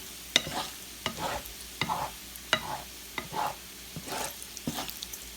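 Bacon frying in a pan while being stirred, with repeated scraping strokes about every second over a soft, steady sizzle, close by and free of talk.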